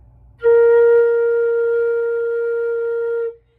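A flute sustains a single steady B flat note for about three seconds, clear and close with a clean onset and a gentle release, played alone with no other sound.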